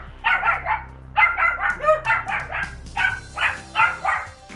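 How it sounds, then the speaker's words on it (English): Several dogs bark excitedly in repeated bursts, loud and close, with brief pauses between volleys and no talk over them. "Sorry, my dogs are going nuts."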